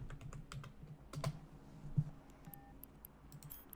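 Keys tapped on a computer keyboard while typing a location name into a space game's navigation menu: a steady run of quick, light clicks, close and soft, with a few sharper taps and faint interface beeps near the end.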